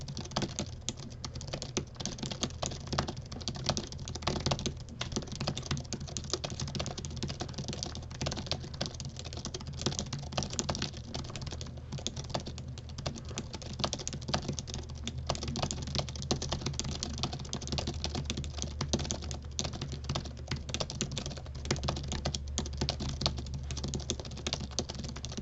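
Very rapid, dense keyboard typing in a typing contest clatters on without pause, a fast even stream of close keystrokes over a steady low background hum.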